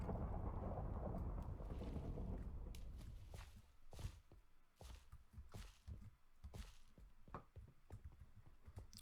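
A Minecraft thunderstorm set off by a command block: a heavy thunder rumble fades over the first few seconds, then gives way to faint rain and a string of soft, irregular footstep-like taps.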